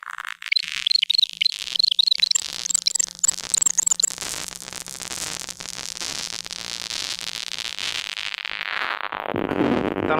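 A Blipblox synthesizer after an oscillator change, playing rapid chirping, warbling high tones that break into a dense buzzing, static-like wash and then sweep down into a rumbling noise, loud and alone.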